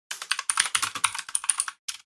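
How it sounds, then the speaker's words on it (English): Fast, loud clatter of keystrokes on a noisy computer keyboard, rapid irregular clicks in bursts with a brief pause near the end, close to the mic and with no talking. "You can tell I'm on Nova's keyboard because it's loud as hell."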